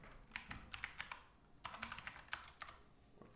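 Quick bursts of keystrokes on a computer keyboard, clustered in two short runs of crisp clicks, close and moderately quiet, with no voices.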